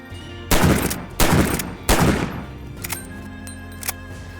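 A standard 45-70 lever-action rifle fires three loud, sharp shots at roughly even intervals under a second apart. Fainter mechanical clacks of the lever cycling follow, with no talking.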